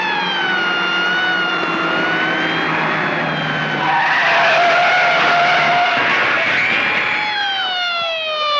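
A 1930s car chase: tyres skid and engines roar loudly while a siren wails steadily over the scene.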